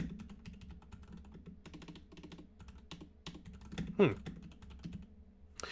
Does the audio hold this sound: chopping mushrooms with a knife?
no